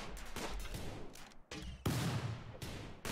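Gunfire volleys in the video game Rimworld come as several sharp, loud reports in clustered bursts with brief gaps between them, close and punchy, without voices.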